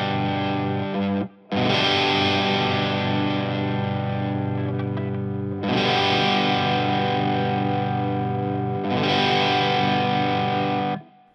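Electric guitar's open G string rings through distortion and chorus effects, struck three times with long sustained notes, loud and close with no talking.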